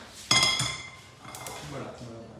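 A non-stick pan is set down and handled for shallow frying, giving a couple of close metallic clanks and clinks followed by lighter rattles, with voices talking in a kitchen.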